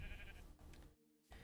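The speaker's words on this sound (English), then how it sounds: "That sheep still hasn't eaten" A single sheep bleats in the Minecraft video game, a short wavering nasal call heard alone and fairly close, followed by a brief gap.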